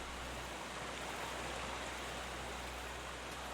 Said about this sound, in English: Wading the river.